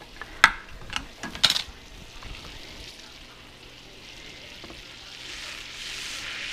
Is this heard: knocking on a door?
no